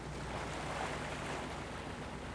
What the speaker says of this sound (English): I'm on the bridge of the Nathaniel B, a U.S. icebreaker that is slowly cruising along the coast of the coldest and most remote continent on Earth